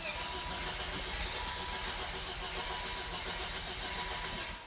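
A Volvo V70R wagon engine is cranked over and over without firing, a continuous dense churning whir that holds loud and steady throughout, with no clear catch.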